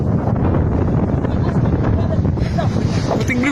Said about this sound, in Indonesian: Wow, puting beliung.